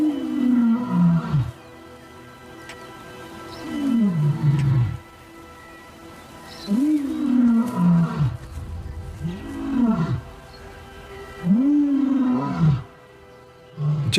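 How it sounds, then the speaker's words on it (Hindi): A lion roars on the savanna in a series of five deep, loud groaning calls that each slide downward, evenly spaced with short pauses between them. "जब शेर दहाड़ता है तो हर किसी का इस पर ध्यान जाता है, यहां तक कि राइनोस का भी।"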